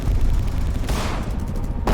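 A gunshot rings out in the horror video game In Sound Mind, a loud burst with a sharp blast near the middle and another crack at the very end, no talking.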